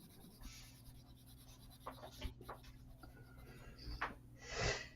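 A hard pencil writes on paper in a few short scratchy strokes and taps, faint and close, with a quiet steady hum underneath and no talking.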